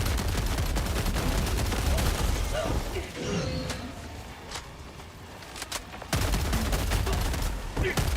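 Rapid, dense gunfire in Helldivers 2 on the hardest difficulty, sustained bursts of shots that drop away for a few seconds of quieter sporadic firing, then return at full intensity.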